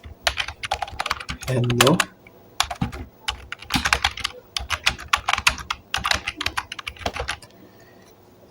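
Computer keyboard typing while entering text on a PowerPoint slide: close, crisp bursts of keystrokes in irregular clusters with short pauses, and a brief spoken greeting near the start.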